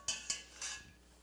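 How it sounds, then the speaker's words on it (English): Metal utensils clink against a bowl three times in quick succession while linguine is served for a seafood brodetto, crisp, close and with no talking. "let's get some linguine into that bowl"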